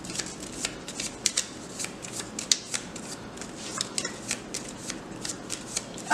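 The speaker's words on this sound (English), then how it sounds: "I'm going to flip 1, 2, 3 extra cards for my attack." Playing cards from a Transformers TCG deck flipped and shuffled on a table, giving a run of soft, crisp papery flicks and snaps at an irregular quick pace, close up with no talking.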